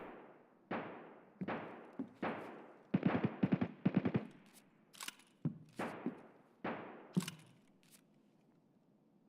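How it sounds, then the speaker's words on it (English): Gunfire rings out in the Escape From Tarkov video game, single shots and quick rattling bursts that crack sharply and then echo away. The shots come at irregular intervals, moderately distant, with no talk. "Everybody's shooting at the PMC."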